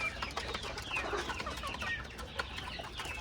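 Chickens cluck and chirp in a coop alongside a Kuwaiti rooster, with busy overlapping clucks and a few sharp higher calls at moderate distance over a low background hum.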